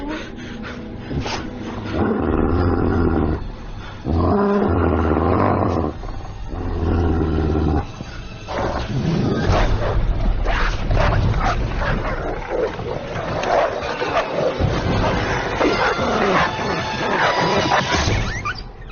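Wild dogs bark and growl outside over a dense, loud din with crashing bursts, the barks coming in repeated rough clusters for the whole stretch.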